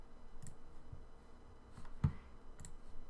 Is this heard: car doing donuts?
no